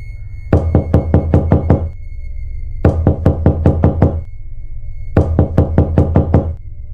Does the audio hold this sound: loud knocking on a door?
yes